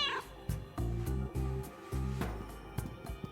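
A cat meowing in a video game, several short tonal meows in quick succession, fairly close and clear, with faint game ambience beneath and no speech.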